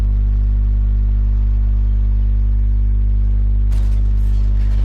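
A tank engine drones with a deep, steady, loud rumble in World of Tanks, the heavy vehicle driving forward, with a brief clattering burst near the end.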